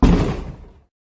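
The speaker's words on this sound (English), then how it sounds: "I can like fucking slam my head in my door" A head slams into a door with a loud, hollow wooden thud that rings briefly and dies away within a second.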